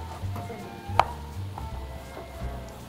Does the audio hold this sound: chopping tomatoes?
yes